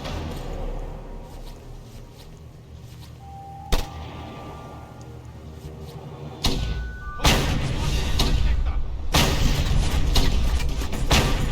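Gunshots crack through a video game scene, a sharp isolated shot followed later by several loud broadband bursts that build into sustained heavy firing and impacts over ambient noise.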